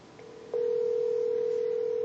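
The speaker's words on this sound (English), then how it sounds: "the phone is now ringing" A single steady ringback tone from a cloud-based phone system on Amazon's cloud starts after a brief click and holds continuously, faint and thin, with no voices.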